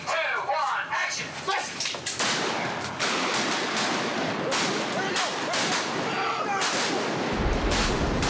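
A pyrotechnic explosion goes off on the Transformers film set, a sharp loud blast followed by a long, dense roar of debris and rumble, with a second crack partway through and people talking faintly around it.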